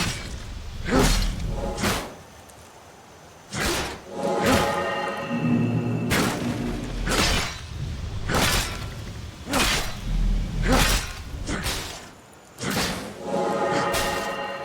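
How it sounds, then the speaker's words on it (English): Skyrim video game weapon effects from a mod: repeated sharp swooshes and heavy thuds land in separate bursts with short pauses between them, loud and up close, with no talking. "depending on what weapon you're currently using, there will also be appropriate sounds to match the weapon"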